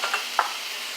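Ground beef fries in a pan with a steady, soft sizzle while a utensil stirs it, giving a few brief scraping clicks close by. No one speaks.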